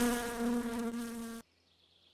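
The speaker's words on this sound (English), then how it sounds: "I'm going to shoot myself in the head trying to kill this mosquito." A mosquito in the video game My Summer Car buzzes with a steady, close, high-pitched whine for over a second, then cuts off abruptly into silence before a short thump at the end.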